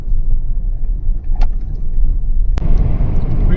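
A car drives fast along a road in Angola, a loud steady rumble of engine and tyre noise close up, with a couple of brief knocks or rattles and some rising road roar toward the end.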